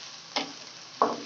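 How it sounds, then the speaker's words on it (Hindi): Chicken with ginger, garlic and onion frying in a pan, a soft steady sizzle broken by two short scraping stirs of a spoon. "चिकन ऐड करके इसको मिक्स करेंगे अच्छे से"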